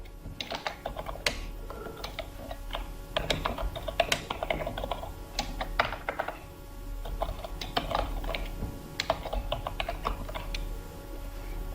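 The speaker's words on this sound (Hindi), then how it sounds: "ये देखिए आपके सामने मैंने एक पैराग्राफ टाइप कर लिया" Someone types a paragraph on a computer keyboard in Urdu page-layout software. Close, steady keystroke clatter comes in uneven bursts with brief pauses for about twelve seconds, and no one speaks.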